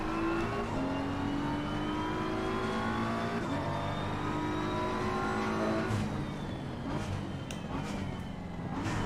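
A race car in Assetto Corsa Competizione screams loudly through the gears, its engine note climbing steadily between sharp upshift drops, with tire noise and a brief missed shift near the end.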